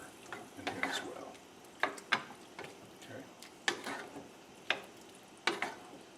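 A spoon scrapes through chorizo sausage with black pepper in a hot pan, giving soft, close scraping strokes at an uneven pace over a faint sizzle.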